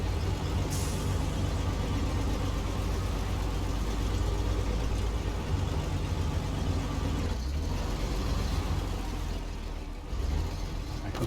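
Heavy Western Star truck hauling a trailer in the Snowrunner game, a steady loud low engine drone that holds constant throughout, with a brief hiss-like dip near the end.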